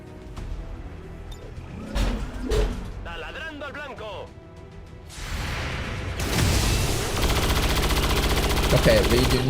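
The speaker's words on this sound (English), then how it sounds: "Reed, you need to stop shooting at this thing" Bursts of soldier gunfire in XCOM 2, single cracks then sustained rapid automatic shooting that grows loud and dense, with whooshes and a voice talking over parts of it.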